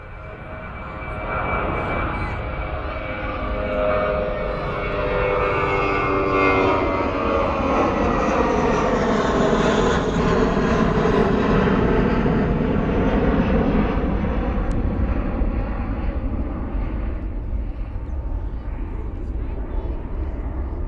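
An airliner rotates and lifts off from Perth Airport bound for Darwin, its jet engines building to a loud broad roar with a sweeping, shifting whine as it climbs, sustained throughout.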